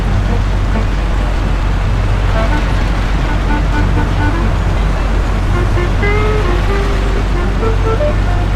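A car drives fast in the video game Mafia, its engine and road roar a dense, constant rumble throughout with faint musical tones drifting above, no speech.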